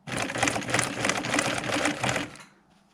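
A sewing machine stitches a zigzag pattern on a 1996 Ford F-350 truck seat, running as a fast, even mechanical chatter for about two and a half seconds before stopping abruptly.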